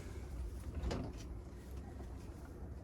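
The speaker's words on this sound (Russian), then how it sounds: "Захожу, закрываю дверь." A door being shut on a chicken coop, with soft wooden knocks and a brief clatter near the start, followed by a quiet interior hush.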